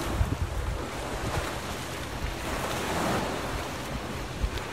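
Waves wash steadily against the shore of Yellowstone Lake under a constant rush of wind buffeting the microphone, loud and close with no voices, like surf on an ocean coast.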